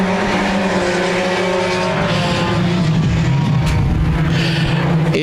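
Six stock cars roar around Park Jefferson Speedway in a heat race, a loud, continuous engine drone with rising and falling revs and tire noise, close and unbroken.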